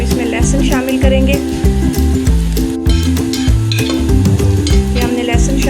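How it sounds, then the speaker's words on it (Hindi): Garlic frying with onions in a home-cooking pan for aloo gosht, a loud steady sizzle broken by repeated scraping stirs from a spoon in a regular rhythm. "ये हमने लहसुन शामिल कर दिया और हम इसको थोड़ी देर और फ्राई करेंगे"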